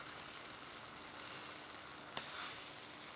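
Peaches sizzling on a grill for a halloumi salad, a steady soft hiss with faint crackles throughout and one sharp pop midway, no voices.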